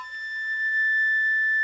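A single high A sustained on a flute, a steady, pure, bright tone held alone for under two seconds with little breath noise, swelling slightly louder as it continues.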